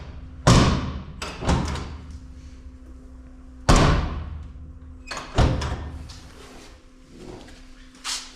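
Door of a 1966 Ford F100 truck being moved and thumped shut, several loud close metallic thuds spaced a second or two apart, with softer handling clunks between.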